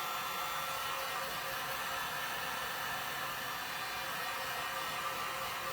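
A hair dryer blows steadily to dry fresh paint on a thrift store piece, a continuous broadband whoosh that holds at an even level for several seconds with no one talking.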